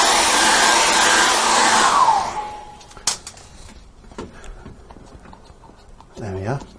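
A hair dryer blows loudly and close on a freshly painted acrylic floral painting for about two seconds, then switches off and winds down, followed by quiet handling knocks and a short burst of speech at the end.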